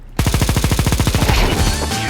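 A Negev machine gun in Counter-Strike 2 fires one loud, close, continuous burst of evenly spaced rapid shots, lasting about two seconds.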